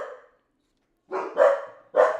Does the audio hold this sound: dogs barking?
yes